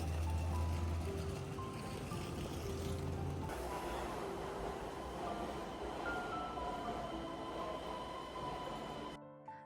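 Inside the Skyliner train in Japan, a steady, loud mechanical rumble carries shifting whining motor tones that rise and change pitch as the train moves, ending in a sudden cut.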